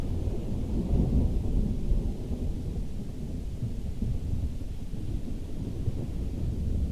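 A thunderstorm in Kerbal Space Program rumbles low and continuous, a deep rolling roar with steady rain-like wash underneath and no distinct crack, with no voices.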